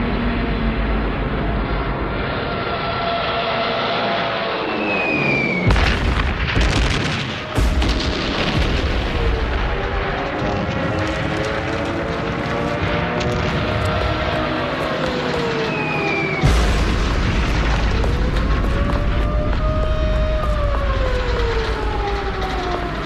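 Wartime bombing of Warsaw, with heavy booms and explosions under a continuous rumble, air-raid sirens rising and falling throughout, and droning aircraft, all dense and loud.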